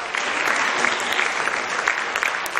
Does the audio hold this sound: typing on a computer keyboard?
no